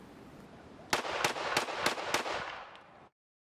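A pistol is fired at a target in a quick string of about five or six sharp, cracking shots, evenly spaced over roughly a second and a half, then the sound falls away.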